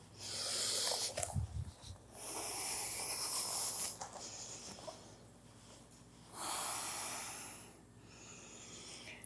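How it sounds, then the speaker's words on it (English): Deep breaths in and out during a vinyasa yoga flow, long airy hissing exhalations and inhalations in slow waves, close and soft, with a brief low snort near the start and no talking. "Breathing in and out."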